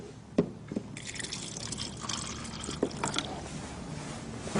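Water poured over a tea bag gives a soft, steady liquid trickle with a few drips and small splashes, close and fairly quiet, with no talking.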